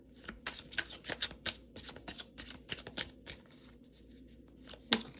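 Tarot cards being shuffled for a reading, a rapid run of crisp riffling and slapping bursts at close range, irregular in rhythm, with a sharper snap near the end.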